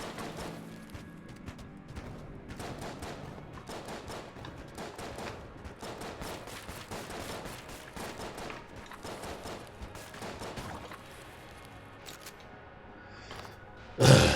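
Rapid bursts of video-game gunfire from a gun in Enter the Gungeon, dense repeated shots chattering steadily for several seconds, then thinning out before one loud final blast.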